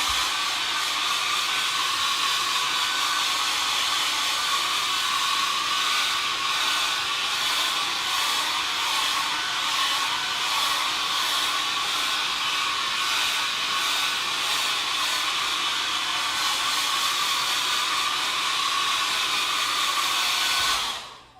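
A hair dryer blows steadily on a watercolour poppy painting, a loud continuous whooshing roar with fluctuating hiss that holds for about twenty seconds, then cuts off abruptly.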